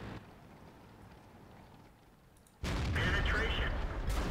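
Tank gun firing in the video game World of Tanks, a sudden loud blast that cuts in after quiet background and rolls on as a broad, heavy rumble.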